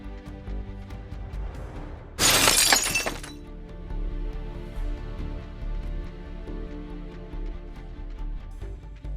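A thief slams into a glass window, which shatters in a single loud, bright burst of breaking glass about two seconds in. The crash cuts sharply through a steady hum of background sound and fades within about a second.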